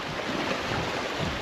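Ocean waves wash and churn around in the water near a shipwreck off Australia, making a steady, moderately loud rushing swash with no distinct breaks.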